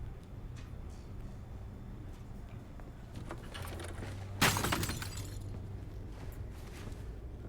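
Glass smashing in Batman The Telltale Series: one sharp crash with tinkling debris scattering briefly afterward, set against low background rumble and scattered thuds, no talk during the break.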